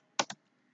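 Two quick, close keystrokes on a computer keyboard while the PING command is typed, followed by silence.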